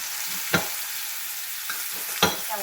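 Heavy cream goes into a hot pan and gets stirred, with a soft steady sizzle underneath and two sharp scraping clinks of a utensil against the pan, no voices.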